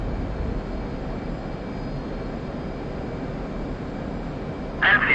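Military aircraft engine roaring steadily during takeoff in a flight simulator game, a continuous loud broadband rumble and whine with no pauses, ending in a brief chirping burst.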